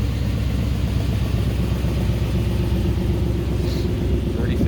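A 1999 Saleen Mustang S281, 35th Anniversary edition, rumbling steadily while driving, a constant low engine drone with road noise and no clear revving.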